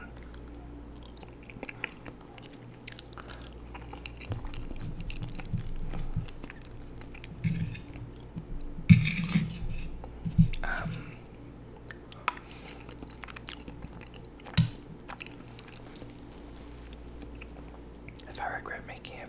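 Close-miked chewing of chicken mole enchiladas, soft wet mouth sounds and occasional clinks of cutlery on a plate, under quiet whispered talk.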